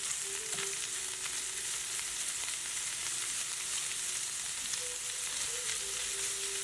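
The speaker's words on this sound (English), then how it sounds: "right now it's the sauteing process. You definitely want to saute your ingredients before you add the eggs in" Ingredients for a breakfast egg scramble sauté in a pan over medium-high heat, a constant crackling sizzle with faint tonal squeaks of stirring now and then, steady and close.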